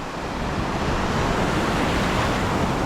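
Ocean waves along a tropical shore wash in a dense, steady broadband roar, loud and continuous with some wind, and no one talking.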